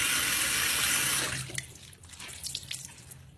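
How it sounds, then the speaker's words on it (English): Warm tap water gushes loudly into a bathroom sink while a cleaning cloth is rinsed, then the flow cuts off, leaving wet squelches and drips as the cloth is wrung. "I'm gonna rinse my cloth. Now when you're rinsing, I do like to use warm water"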